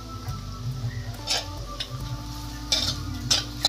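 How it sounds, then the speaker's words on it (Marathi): Cumin seeds sizzle in hot oil alongside whole red chillies, cinnamon, cloves and peppercorns while cooking rajma rice, a soft continuous crackle with a few sharper pops and light utensil clinks. "जिरा टाकायचं आहे।"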